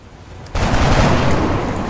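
A gunshot in the video game XCOM Enemy Within, a sudden loud blast that becomes a dense, sustained roar of fire and rumble lasting well over a second.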